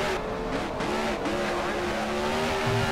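Dirt supersprint car engine from an NR2003 racing game sound pack at the Chili Bowl, a loud steady high-pitched drone with shifting pitch that fills the whole stretch, with no pause.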